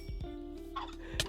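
A turkey gobbles in Minecraft, a quick run of rapid gobbling calls with a few soft thuds, followed by a sharper hit. The sounds are close and clear, and there is no talking.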